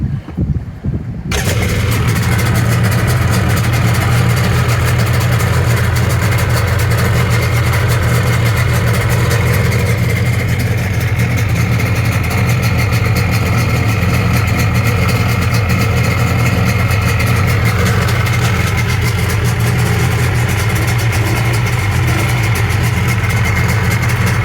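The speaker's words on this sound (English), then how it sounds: "here's what it looked and sounded like running it on the ramp the first time" A Sea-Doo GSXL jet ski engine, newly rebuilt and being broken in, starts on a boat ramp after a few brief sputters, then runs loud and close at a steady, rough idle with no voices for over twenty seconds.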